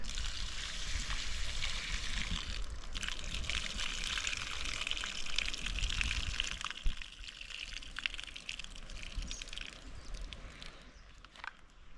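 Water is poured over beans in a pot to soak them in a village kitchen: a steady, continuous pouring and splashing wash that runs for most of the stretch, then thins to lighter trickling near the end. No one speaks.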